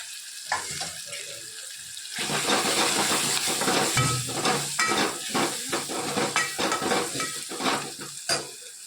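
A spiced mixture of asafoetida, garam masala, coriander-cumin powder, turmeric and red chilli sizzles steadily in a pan, broken by repeated scraping stirs that come in quick, uneven bursts close by.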